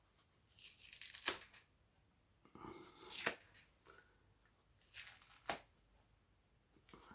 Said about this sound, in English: this time we'll tear this off again